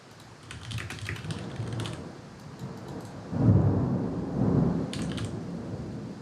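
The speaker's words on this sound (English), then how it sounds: "Whoa, big lightning going on." Thunder from a nearby lightning storm rumbles low in two swells behind steady rain, while computer keyboard typing clicks on and off close by.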